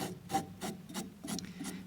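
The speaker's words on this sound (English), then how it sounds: "I'm going to do some filing here" A hand file rasping across metal, with roughly five separate strokes coming in a steady rhythm, close and fairly quiet, with no talking.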